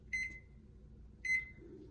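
A kitchen timer set for egg boiling gives two short electronic beeps about a second apart, close and fairly faint, with quiet room noise between them.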